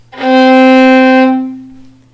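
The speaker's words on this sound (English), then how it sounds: "So we are placing the first finger on the C on the G string." A single sustained violin note, C played with the first finger on the G string in third position, bowed cleanly and steadily for about a second before fading out.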